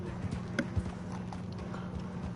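Horse hooves clip-clop at a relaxed, uneven walk in Red Dead Redemption 2, soft and fairly close over a low steady background hum.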